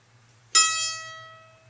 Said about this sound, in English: Now we're going to play the 7th fret on the A string.